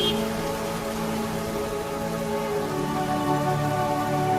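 Steady rain falls throughout a drama scene, pattering evenly over a surface with a soft background hum and no other clear events.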